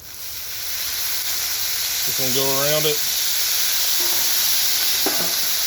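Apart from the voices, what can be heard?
meatballs steaming and sizzling on a griddle after water is sprayed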